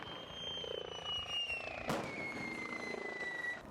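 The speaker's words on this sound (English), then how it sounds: "firing rockets at the enemy from a multiple rocket launcher" Rocket fire from a multiple rocket launcher during desert army training at Fort Irwin, heard as a steady roaring whoosh with a falling whistle and a sharp burst near the middle, continuous and moderately distant.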